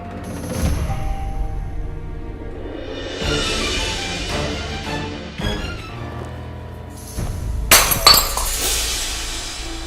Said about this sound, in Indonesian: Gelas jatuh sendiri.